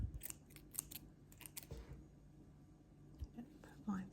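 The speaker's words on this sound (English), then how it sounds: "So you can cut off the string." Small scissors snipping through crochet yarn after finishing a crocheted bow hair pin, a few quiet, close, crisp snips in quick bursts with soft handling noises between them in a hushed setting.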